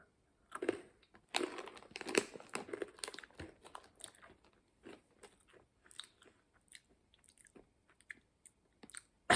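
Crumbly, spicy bread snacks are chewed close to the mic, with irregular crunchy bites and softer mouth sounds separated by short quiet gaps.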